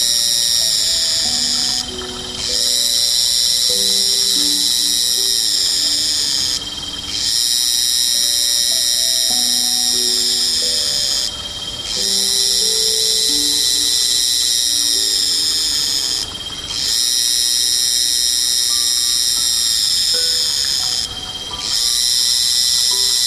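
Piercing, sustained high-pitched insect buzzing in loud pulsed bursts of several seconds each, separated by brief quieter gaps, repeating about five times with a low background hum.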